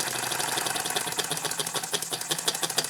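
A model steam engine with a balls-out governor runs under a light load on its flywheel, giving a fast, steady hissing chuff with rapid rhythmic beats, close and continuous.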